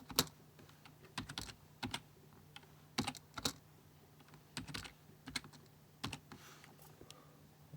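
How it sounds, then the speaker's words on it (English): Irregular bursts of keystrokes on a computer keyboard while entering Linux command lines, close and alone, with short pauses between clusters of clicks. "I'll type what it says on here"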